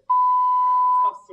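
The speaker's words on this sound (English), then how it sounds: "it's the fire alarm" A fire alarm gives one long, loud, steady beep lasting about a second, followed by faint murmurs.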